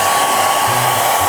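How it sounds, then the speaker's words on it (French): A hair dryer blows steadily and loudly at close range, a continuous whooshing motor roar that holds without a break. "c'est là-dessus qu'il faut mettre le sèche-cheveux"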